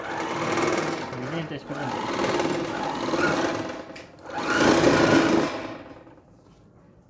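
Overlock sewing machine stitching fabric in two close, loud whirring runs separated by a brief pause, with someone speaking over it before it stops.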